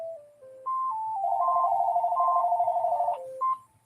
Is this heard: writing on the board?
no